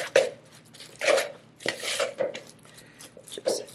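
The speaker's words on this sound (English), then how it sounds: "Just use a spoon. It'll probably be easier to mix." A spoon stirs and scrapes through vegan banana cookie dough in a bowl, giving a few soft irregular scraping and knocking strokes, close and moderately loud.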